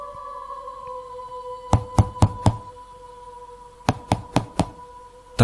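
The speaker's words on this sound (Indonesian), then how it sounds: "Terdengar suara ketukan pintu di rumah kami malam itu." Knocking on a house door late at night: two sharp bursts of four evenly spaced raps each, separated by a pause, over a low steady hum.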